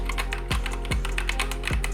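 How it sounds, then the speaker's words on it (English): Typing on a HIGROUND Hype Geek keyboard with red linear switches, a steady patter of close keystrokes with a few heavier thuds from larger keys, loud and clear with no talking. "This is the HIGROUND Hype Geek IP banned keyboard."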